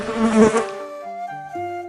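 A fly's buzz sounds loudly up close for about half a second, then gives way to a short run of descending sustained tones.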